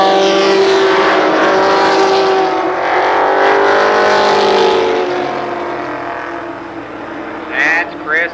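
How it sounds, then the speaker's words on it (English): A pack of race cars in the Limited Sportsman first heat at Columbus Motor Speedway, a loud roaring engine drone sweeping past and fading, with an announcer talking over it. "8 laps for the Limited Sportsman first heat race."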